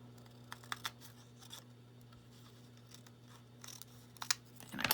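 Scissors snip along the edge of a paper journal page, several quiet, close cuts spaced irregularly over a low steady hum, with a louder rustle at the end.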